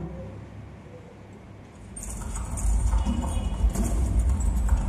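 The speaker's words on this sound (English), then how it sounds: "There is a stomping sound." Stomping sound effect in a children's church story, starting quietly and then swelling after two seconds into loud, heavy, rhythmic thuds like clopping hooves with a jangling rattle, alone without talk.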